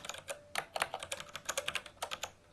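Keys clatter on a computer keyboard in quick, uneven bursts of close, crisp taps, fairly quiet overall, with no one speaking.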